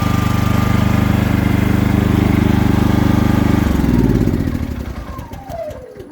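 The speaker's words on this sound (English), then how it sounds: "It is an inverter generator too, so that helps." An inverter home emergency generator runs with a steady, loud engine drone, then its pitch drops and the sound winds down as it shuts off, with no talking.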